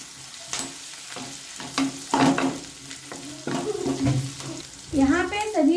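Ginger and green chillies sizzle in a pan for veg momos, with steady frying crackle broken by the scrape and clatter of stirring, and a brief voice near the end.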